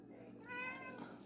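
A pet cat gives a single short, faint meow, heard alone at low volume.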